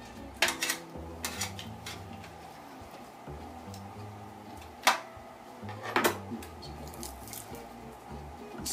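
Ribs being flipped in an Instant Pot, sparse metallic clinks and scrapes of a utensil against the pot, several sharp clacks spaced out over a quiet kitchen background.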